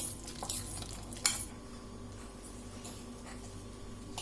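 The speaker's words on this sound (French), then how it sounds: "Après, on mélange avec la fourchette" A fork stirs and mixes ingredients in a bowl, giving soft, irregular scrapes and clicks up close, with one sharper clink partway through.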